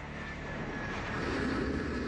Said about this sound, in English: Ali Mohamed's plane touches down here at Kennedy Airport